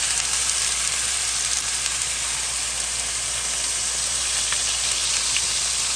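Swai fish fillets seasoned with lemon pepper, onion powder and garlic powder sizzle steadily in a hot pan, a close, dense, unbroken frying hiss with no voices.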